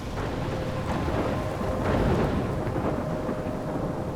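Heavy thunderstorm in the game Life is Strange, with steady rain pouring and a low rolling rumble of thunder swelling near the middle, loud and continuous with no voices.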